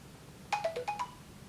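A phone plays a short, bright text-message alert: a quick run of five chiming notes, clear and close, over a quiet room with no one speaking.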